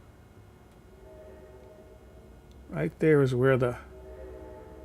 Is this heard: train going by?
yes